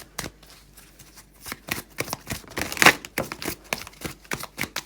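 Tarot cards being shuffled by hand, a close run of quick riffling flutters and soft slaps repeating in an uneven rhythm, with one louder burst partway through.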